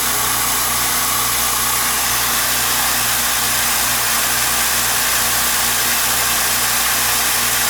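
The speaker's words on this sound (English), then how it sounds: "You can hear it is a quiet compressor." A California Air Tool air compressor runs steadily after being repaired, a quiet, even mechanical hum with a low drone that holds constant throughout with no talking.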